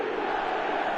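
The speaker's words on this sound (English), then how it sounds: "Now the crowd are demanding that they just finish this off." A football video game crowd in eFootball roars in a dense, continuous cheer, loud and sustained, with no voices standing out from the mass.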